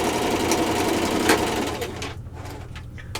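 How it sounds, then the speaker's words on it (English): A sewing machine runs steadily while stitching a half-inch seam, a dense mechanical hum with a brief louder burst near the start before it quiets and eases off toward the end. "When I start sewing, I always back stitch at the beginning and at the end."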